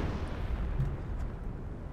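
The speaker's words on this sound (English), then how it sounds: "do you see the artillery coming down at the moment?" Artillery fire in the World War II strategy game Company of Heroes: a rumbling barrage of low booms and muffled blasts, steady and fairly loud, with no voices.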